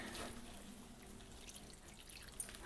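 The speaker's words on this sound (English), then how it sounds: "I have in a jug approximately 250 millilitres of stock, and I'm just adding a little splash." Chicken or vegetable stock pours from a jug into a pan in a small splash, a faint, close trickling and dripping over a low background hum.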